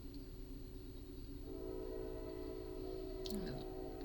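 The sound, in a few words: passing train with horn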